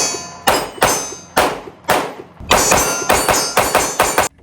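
Rapid gunshots from a ported Smith & Wesson M&P 2.0 pistol crack out loud and close, about ten sharp reports in uneven bursts with short ringing tails and no talk.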